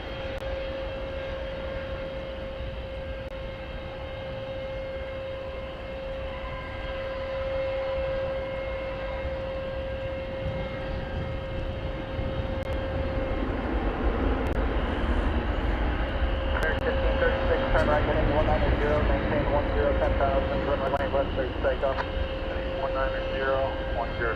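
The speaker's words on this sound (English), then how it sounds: "We've got United Flight 1949 coming in from Houston Intercontinental Airport, George Bush Intercontinental Airport in Houston. 737-900." A United Boeing 737-900 airliner arriving at DFW Airport: a broad jet-engine roar that swells gradually from a distant drone into a louder, rushing pass, with people talking over it and a steady tonal whine throughout.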